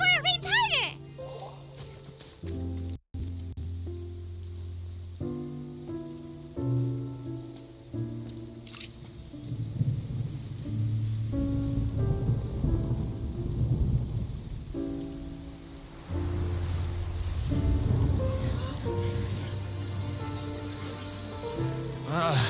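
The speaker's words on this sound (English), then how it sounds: "It's raining!" Rain and thunder in the Genshin Impact video game, steady rainfall hiss under game music and character voices, with a low rumbling build in the middle.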